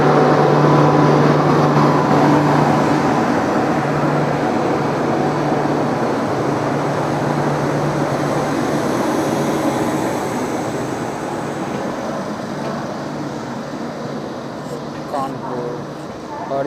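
Kamakhya to New Delhi passenger train pulling out of the station, a loud, steady rumble and rolling clatter with a sustained low hum throughout, and voices mixed in among the noise.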